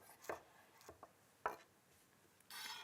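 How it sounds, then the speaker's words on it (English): A knife chops fresh coriander finely on a board, a few quiet, irregular cuts separated by pauses, ending in a soft scraping rustle. "we're going to scrunch it up and finely chop it"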